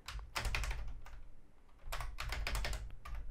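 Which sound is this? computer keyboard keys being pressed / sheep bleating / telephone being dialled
computer keyboard keys being pressed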